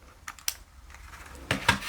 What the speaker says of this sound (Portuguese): eu amo esse teclado, ele é muito bom